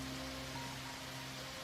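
Steady rain falling during a thunderstorm, a dense, even hiss that stays constant throughout with no distinct thunder claps.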